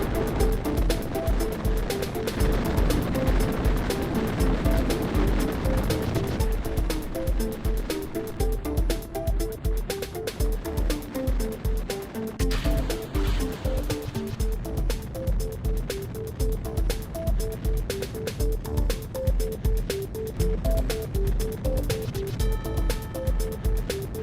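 Rocket launch in the video game Kerbal Space Program, a loud sustained engine roar with rumbling, surf-like noise that runs steadily for the whole stretch, overlaid with music-like tones.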